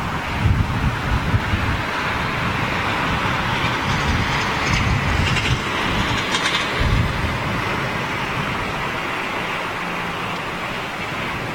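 Strong wind gusting at London Heathrow Airport, a loud broadband rush with low rumbling buffeting against the microphone, steady throughout with slight swells, no voices.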